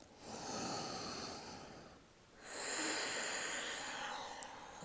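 Deep yoga breaths, slow and airy, come close to the mic: a long hissing exhale, a brief quiet pause, then another long breath, with no talking.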